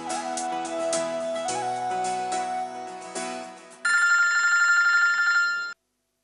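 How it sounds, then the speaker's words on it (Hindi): An incoming call on a phone in a Hindi TV drama: a melodic electronic ringtone plays close and clear, then shifts to a brighter, louder repeating ring before cutting off abruptly, with no talking over it. "अभी गई और कॉल भी आ गया"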